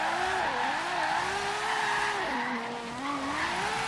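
A game car drifting in Forza Horizon 3, its engine droning loud and steady while tires squeal in a long continuous wail that bends up and down through the slide.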